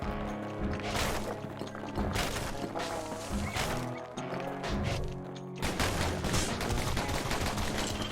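Gunfire in the action game Bastion: rapid volleys of shots and impact crashes hammer on continuously over a layer of game music, loud and dense throughout.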